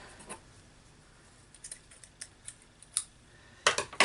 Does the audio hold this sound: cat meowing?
no